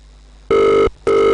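A telephone rings twice in a steady electronic double-burst pattern, loud and close, with a short silent gap between the two rings and no voices.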